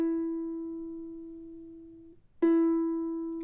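A single ukulele open E string plucked twice, each note ringing clear and slowly decaying, with a short gap before the second pluck; close and alone.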